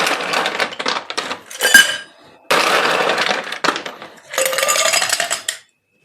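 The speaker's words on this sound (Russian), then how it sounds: "Наполняем наш бокал и шейкер льдом" Ice cubes clattering into a cocktail glass and a shaker while a Sex on the Beach cocktail is made, three bursts of rattling, clinking cubes with brief quiet gaps between them.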